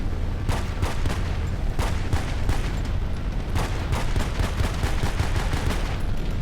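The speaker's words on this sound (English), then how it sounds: "I gotta shoot him." Dense, continuous gunfire in the Battlefield video game during a mid-air free-fall fight, with rapid bursts and loud automatic shots layered over a constant rumbling roar, no talking.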